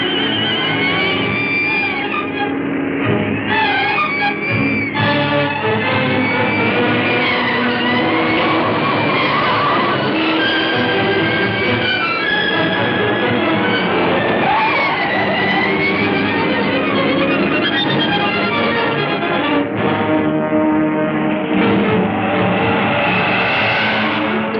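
Car driven fast with tyres skidding and screeching continuously over a loud engine roar, sustained and close, with no talk.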